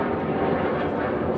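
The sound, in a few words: airplane flying overhead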